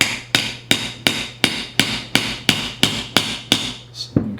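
A plastic mallet taps a lawn mower spindle out of its housing, about a dozen sharp, evenly spaced knocks close by, each with a brief ringing decay.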